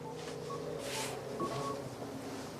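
Telephone call tones sound on a phone line, with short steady beeps and dialing pitches over a faint constant hiss, heard close and moderately quiet with no voices.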